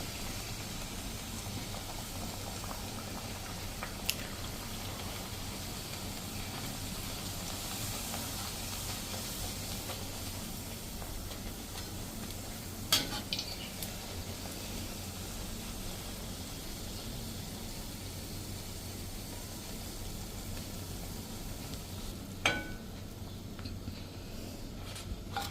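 Puris frying and puffing one after another in hot oil, a steady hiss and bubbling sizzle running throughout with a few brief sharp pops, no talk.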